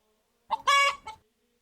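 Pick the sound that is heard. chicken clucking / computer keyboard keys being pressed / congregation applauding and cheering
chicken clucking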